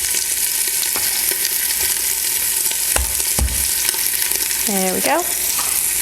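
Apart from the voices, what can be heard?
beef searing in a pan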